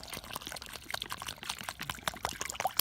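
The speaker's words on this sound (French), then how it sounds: "Et donc, dans notre trou, du coup, on va mettre pareil, encore un fond d'eau." Water poured into a planting hole in a vegetable garden, a close, continuous splashing trickle with small irregular drips.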